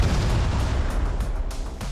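Bombs going off in the arcade survival game Fireball 2, a dense run of overlapping booms and pops in quick succession, loud and close, with no voices.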